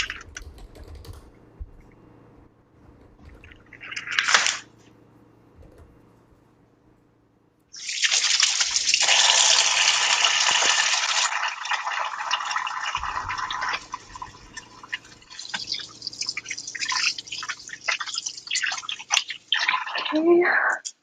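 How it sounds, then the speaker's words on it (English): Tap water runs steadily for several seconds as hands are washed in a kitchen sink, a broad rushing splash with small fluctuations, preceded by brief handling noises. "wash my hands"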